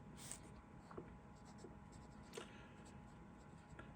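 A stiff-nibbed Waterman Le Man 100 fountain pen, made in France, writing on paper: soft, quiet scratching strokes with a few light taps, heard close up over faint room hiss.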